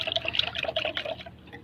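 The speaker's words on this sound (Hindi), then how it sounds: "ये पानी जो है ना इसमें डाल देना इस तरह से" Water pours in a short, bright trickle into a container set up for treating pigeons, a light splashy stream lasting under two seconds.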